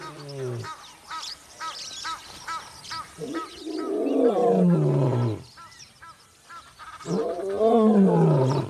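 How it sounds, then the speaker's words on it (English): A grieving lioness roars out across the African savanna, several long, deep, groaning calls rising and falling in separate bouts with short quiet gaps between them, loud and fairly close. "She roars for her pride, for her dead cubs."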